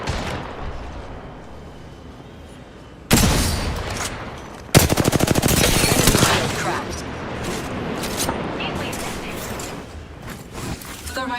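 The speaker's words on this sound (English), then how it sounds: "Firing on enemy. Reloading. Being shot at." Video game firefight with bursts of automatic gunfire, a quieter stretch giving way to a sudden loud volley around the middle, then sustained rapid shots continuing to the end.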